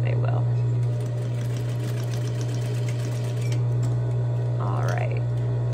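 A sewing machine runs steadily close by, stitching and back stitching a tote bag seam with a constant motor hum and rapid needle chatter, while a voice speaks briefly at the start and near the end.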